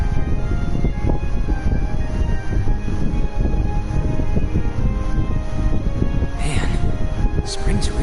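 A train rolls along in the video game Trails of Cold Steel, with a steady loud rumble and rattle of carriages that runs throughout and a brief higher tone near the end, while a voice talks over it.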